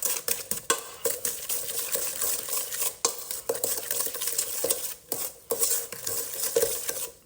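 Brookie batter with egg is stirred in a bowl, producing continuous wet mixing and scraping with sharp utensil clicks against the bowl, close and steady, with no talk.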